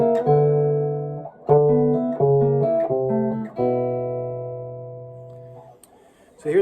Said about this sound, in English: I hit the open high E string on the top there